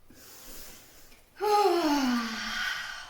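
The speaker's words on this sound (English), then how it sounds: "Two more big breaths." A person takes a deep audible breath during a breathing exercise, first a soft inhale and then a loud, long, rasping exhale.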